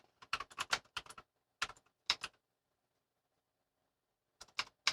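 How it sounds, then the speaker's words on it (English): Quick clicking on a loud computer keyboard, a burst of rapid keystrokes, then a lone click, a second of silence and a final short flurry of taps, close and clear with no talking. "I'm sorry for clicking. We didn't invest in a quiet keyboard yet."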